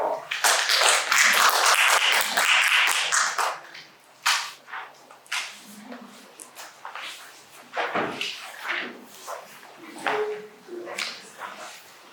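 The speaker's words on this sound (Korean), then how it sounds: "박수로 맞이해 주십시오." An audience at a seminar on intangible cultural heritage policy in Gyeongsangnam-do claps, starting in a dense, loud burst and thinning into scattered, fading individual claps.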